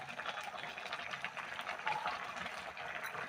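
Bathua greens and red lentils simmer in a covered pot, giving a steady, soft bubbling hiss that continues evenly throughout, with no voices.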